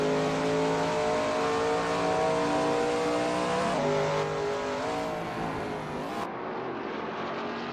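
A Shelby Mustang GT350R race car at NJMP Lightning roars loud and close, its engine note holding steady, then dipping and climbing again as it shifts through gears and bends before fading somewhat toward the end.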